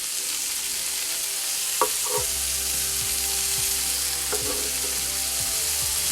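Sausage sizzles steadily in a frying pan, a dense continuous hiss with a few sharper clicks and scrapes as it is stirred or moved, close and fairly loud throughout.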